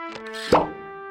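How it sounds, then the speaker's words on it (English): A cartoon cork popper goes off with a single sharp, hollow pop over a sustained musical tone, the burst ringing briefly before settling back under the steady music. "I found this cork popper in the escape kit"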